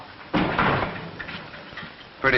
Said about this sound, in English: Shut the door, Tom.